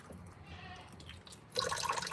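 Water runs and drips from a tap as franks are rinsed in a sink, a soft steady trickle that swells into a brighter, louder splashing stream near the end.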